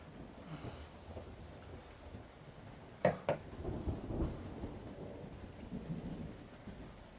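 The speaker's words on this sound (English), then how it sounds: "It's pouring outside." Thunder cracks sharply twice near the middle and rumbles afterward over a steady wash of heavy pouring rain, fairly quiet overall with no talking.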